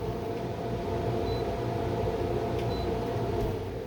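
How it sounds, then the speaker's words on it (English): An air conditioner running indoors, a steady loud droning hum with a broad rushing noise that holds constant throughout, with no talking. "Oh, the air conditioner is running, so it's making a lot of noise."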